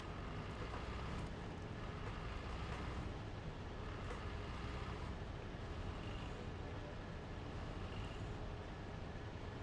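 A truck engine idles steadily in SnowRunner, a low continuous rumble with broadband noise that holds even and loud throughout, with no other distinct events.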